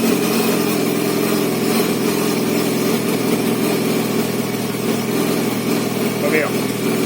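Motorcycle engine running at a steady idle, fitted with a gear indicator, shifter and speedometer; a continuous droning hum holds throughout with no clear start, a faint brief chirp near the end.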